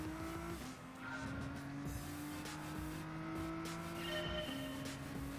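Race car engine in Gran Turismo Sport droning steadily at high revs, held near the rev limiter with slight pitch shifts, continuous and fairly loud with no talk.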